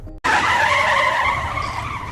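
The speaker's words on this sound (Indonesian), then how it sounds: "tiba-tiba saja mobil mereka pecah ban karena ada seseorang yang sengaja memasang jebakan di tengah jalan" A car skids hard after a tire blowout on a road trap in a zombie film, a loud, sustained tire squeal with a shrill screech that starts abruptly after a brief silence and holds steady to the end.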